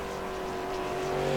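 A late model stock car, the No. 80 Chevrolet, running a lap in a sim racing game, with a steady engine drone that builds slightly in loudness as it goes, no talk over it.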